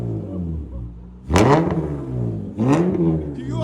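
A 2007 Acura TL Type S with a 3.5L V6 and Vibrant resonator revs hard twice, each loud rasping blip rising from a rumbling idle and settling back down.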